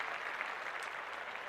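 A steady, even burst of clapping, like an applause sound effect, that fills the whole moment at a moderate level without any voices.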